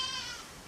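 Goats outside a window let out a drawn-out, high, wavering bleat that carries faintly indoors and slowly fades, with no talking over it.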